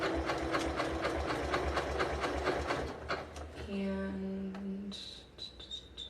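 A new home sewing machine zigzag stitches along fabric with a fast, steady mechanical chatter for several seconds, then slows and stops as someone talks nearby.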